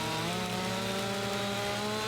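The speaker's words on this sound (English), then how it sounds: "Chainsaw's going all the way off screen." Chainsaw cutting through a tree in Farming Simulator 25, a steady, loud, buzzing engine drone held at constant pitch without a break.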